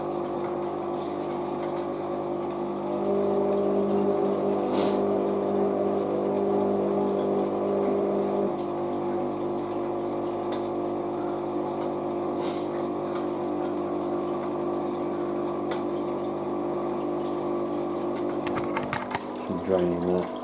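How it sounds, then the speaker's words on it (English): A new washing machine running its intermediate spin cycle: a steady mechanical hum with a sustained whine that rises partway through, then continuous drum and motor noise before a brief clatter near the end. "First intermediate spin."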